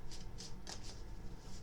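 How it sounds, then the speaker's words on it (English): A deck of cards shuffled by hand in quick riffling bursts, several crisp fluttering passes close by, with no talking. "why am I still shuffling?"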